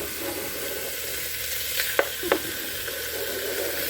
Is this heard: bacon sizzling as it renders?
yes